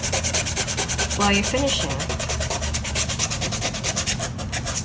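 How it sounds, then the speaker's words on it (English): Sandpaper rubs back and forth over a steam-bent wooden iPad stand in a steady rhythmic stroke, loud and close, while a voice speaks briefly. "you can sand it out"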